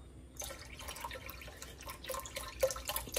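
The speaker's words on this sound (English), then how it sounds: "let's put just a little bit of this seafood stock" Seafood stock poured into a pot of Cajun shrimp and okra gumbo, a soft, steady liquid trickle with light dripping splashes, quiet and close, with no talk.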